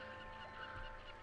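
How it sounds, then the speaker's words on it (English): A short, harsh squawk from seagulls, heard over a steady wash of sea ambience along a shoreline in the fantasy role-playing game Pillars of Eternity, with no talking. "The sound of the sea, gulls, squawking."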